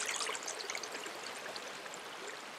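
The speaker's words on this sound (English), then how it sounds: "that rain then infiltrated gradually into the ground, ending up with this steady flow of this river" A river flowing steadily past restored, vegetated land, a continuous soft wash of moving water with bright trickling detail, faint and even throughout.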